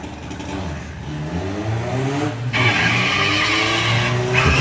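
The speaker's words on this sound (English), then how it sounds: "Lots of wheel spin there for Ethan." A Volkswagen drag race car launches at Santa Pod with heavy wheel spin, the engine revving loud and close as tires screech in a sustained rising whine that swells into a harsh roar.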